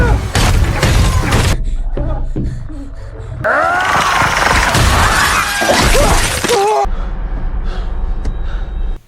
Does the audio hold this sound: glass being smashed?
yes